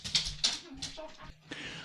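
Dog whimpers and whines in short high-pitched bursts, about five cries close by, wanting to go outside, with faint talk and a low hum beneath.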